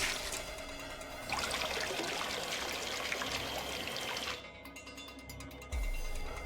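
Water being poured out and refilled in Zero Escape: VLR, a steady soft trickling stream that runs for several seconds, then breaks off with a few drips and a low splash.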